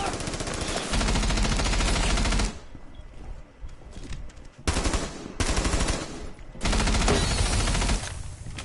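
Rapid automatic gunfire rattles in bursts during a round of Rainbow Six Siege, loud and close, with short pauses and quieter stretches between volleys.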